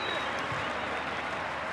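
A large stadium crowd at a rugby test match in Salta, Argentina, against Scotland, roaring and cheering in a steady, dense wash of noise with no breaks.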